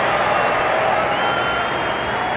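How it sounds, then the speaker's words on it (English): Crowd at a South Africa vs Australia Test cricket match cheering and clapping in a loud, steady wash of noise across the ground. "gives the crowd something to cheer about"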